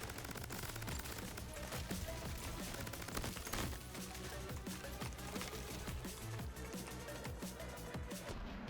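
Rapid video game gunfire in Crab Champions crackles in dense, continuous bursts, with fast repeated shots layered over game effects at moderate volume and no voices.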